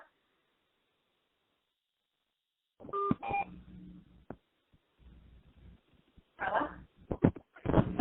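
A telephone is dialed to call back into a mortgage committee conference call: after a long silence, a few short keypad tones sound, then scattered clicks and muffled bursts of line noise, heard faintly through a phone connection.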